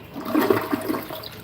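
A Wellworth toilet bowl flushes in a short burst of rushing, gurgling water that cuts off abruptly after about a second, loud and close with no voices.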